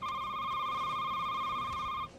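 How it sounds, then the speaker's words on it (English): A steady electronic telephone ring from the horror game Shift at Midnight sounds as one continuous, loud, even tone lasting about two seconds before cutting off, with nobody speaking. "Answer the phone"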